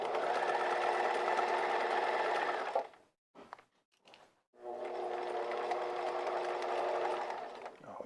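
A sewing machine stitches a pair of pants in a steady, fast whirring run, stops briefly with a few soft clicks as the fabric is turned, then resumes with another long, even run.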